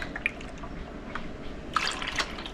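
Water is poured into a container to stand in for milk in a recipe, with faint drips and splashes building into a brief fuller pour near the end, quiet and close.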